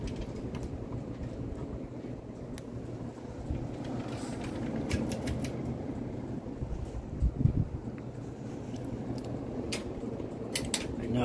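Several ceiling fans turned down to low speed, giving a steady broadband whoosh of moving air with a low hum beneath, plus a few faint clicks and taps near the end.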